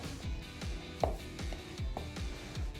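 A plastic dough scraper works through a finished three-grain bread dough, making a quick series of soft rhythmic scrapes and slaps, close and quiet with no voices.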